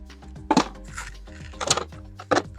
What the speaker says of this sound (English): I'm securing the wire by putting it as deep into the pot as I can get it